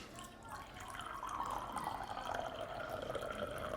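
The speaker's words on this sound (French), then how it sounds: "On mettra de l'eau dans notre verre." Water poured into a drinking glass, a soft continuous trickle with a faintly rising pitch as the glass fills, heard quietly with a voice faintly in the background.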